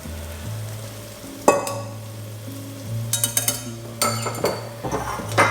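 Egg mixture being stirred into carbonara spaghetti in a pan, with steady utensil scraping, clinks against the pan and a soft sizzle, close and moderately loud with no talk.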